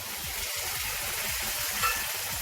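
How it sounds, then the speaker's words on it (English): Sliced tomatoes sizzle steadily in a pan of browned onions while butter chicken cooks, a constant frying hiss with faint stirring and no talk. "I'll put in the tomatoes that I have sliced."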